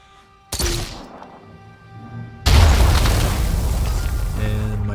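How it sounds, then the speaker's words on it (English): Rocket blast in the tactical game Phoenix Point: a sharp burst opens, then a second, heavier boom lands and trails into a long, dense rumble of debris under game music. "See if we can blast him away."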